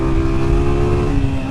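Motorbike ridden fast on a road to Annotto Bay, St Mary, Jamaica, after a hurricane: a loud, steady engine drone with a sustained hum, close and continuous throughout, wind rush over it.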